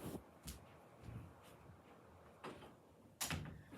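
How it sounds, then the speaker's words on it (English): A room door is pushed shut indoors, with a few soft bumps and scrapes leading to a sharper closing knock near the end, fairly faint overall. "Sorry, gotta close the door."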